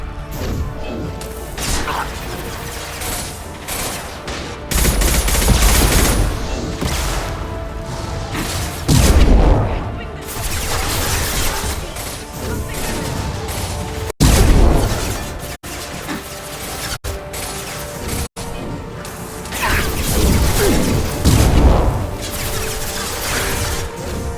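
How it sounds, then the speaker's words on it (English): Heavy gunfire in the Mass Effect video game booms and crashes repeatedly over a dense, loud battle soundscape, with whooshes, mechanical clanks and occasional combat voices mixed in across several bursts. "Firing a high-impact shot!"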